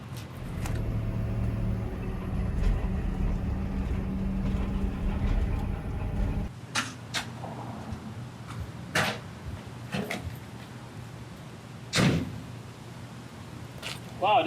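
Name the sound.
armored police rescue vehicle driving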